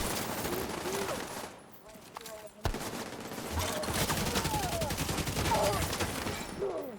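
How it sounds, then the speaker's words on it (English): Video game gunfire rattles in sustained automatic bursts, with a sharp louder shot midway and continuous firing afterward at moderate level. "They are firing at these guys."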